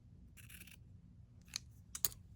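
Scissors trim the yarn fringe of a small crochet blanket, giving a few crisp, close snips: one longer cut followed by two quick sharp clips, faint against a quiet room.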